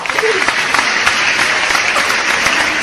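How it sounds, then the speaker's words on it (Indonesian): An audience at a casual storytelling session bursts into dense, loud applause, fairly close and continuous, with some voices mixed in. "Tepuk tangan semuanya."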